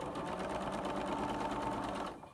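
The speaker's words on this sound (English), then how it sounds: "you're going to sew along there" Sewing machine stitching quilt block pieces, a steady fast mechanical whir running continuously near and loud before slowing and stopping at the end.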